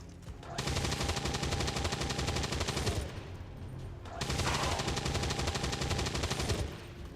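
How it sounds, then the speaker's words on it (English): Rapid ballistic gunfire in XCOM 2, two long sustained bursts of fast automatic shots separated by a brief lull, loud and close with no talking. "Let's reload and rapid fire this guy."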